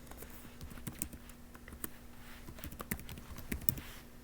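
Quiet, irregular clicking of fingers typing an email address on a computer keyboard, with keystrokes coming in uneven runs over a faint low hum.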